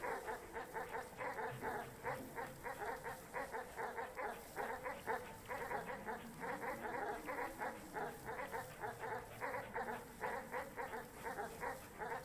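Dogs running around in Animal Well, their rapid, steady yipping and whimpering sounds repeating throughout, moderately quiet under a continuous game soundscape.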